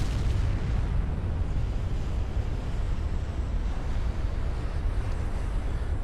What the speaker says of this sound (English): And there goes our turret.